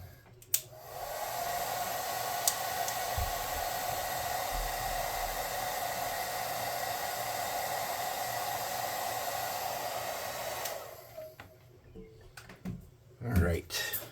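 A hair dryer blowing on freshly applied yellow paint, a steady close whooshing roar that runs for about ten seconds and then cuts off.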